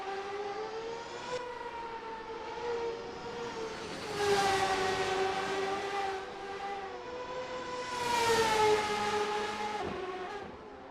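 Open-wheel 1999 CART racing cars in a sim race at Interlagos, engines whining in sustained rising and falling tones as they pass, swelling louder twice as cars draw near, with no talk.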